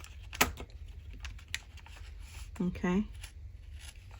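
Scissors cutting through folded paper while making an envelope pocket: a crisp snip and a few quieter rustles, with a person talking briefly in between.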